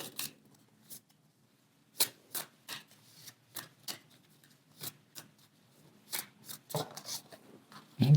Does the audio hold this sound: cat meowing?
no